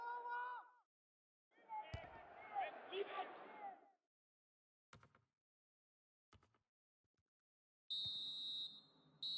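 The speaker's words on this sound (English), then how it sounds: "So it's 1-0 here as the half-time whistle goes" Referee's half-time whistle in a Chelsea football match on a PS4 video game, a short shrill tone near the end after commentary and crowd bursts.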